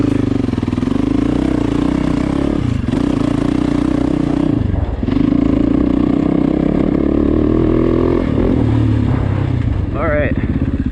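A Yamaha YZ450FX dirt bike engine runs close by after a hot start, idling roughly with blips of revving and a brief dip in between, loud and continuous.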